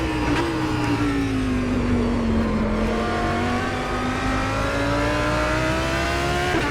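Reworked GT3 race car in rFactor 2 racing sim, its engine sustaining a smooth, close drone whose pitch sags slightly then climbs steadily under acceleration, loud and unbroken with no voices.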